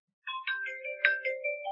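A mobile phone ringtone plays a bright electronic melody of several quick tones, loud and close, following a short silence at the start.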